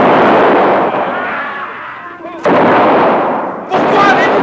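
Gunfire aimed at pirogues on a river, two loud close shots several seconds apart, each a sharp crack with ringing decay, the first trailing into a long fading echo.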